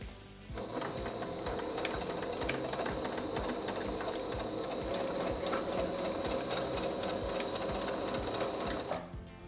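A sewing machine stitches elastic vertically through a skirt waistband, running in one continuous burst of rapid, even clatter for about nine seconds, close and clear, with no talk.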